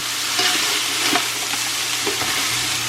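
Ground beef mixture sizzles steadily in a frying pan while a utensil stirs it, giving a constant bright hiss broken by soft scraping pushes at close range.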